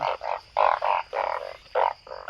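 Banded bullfrogs croaking in a dry upland forest, a close series of about eight loud, throaty croaks in uneven bursts with short gaps between them.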